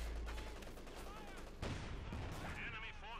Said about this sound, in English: getting closer for the kill with the machine guns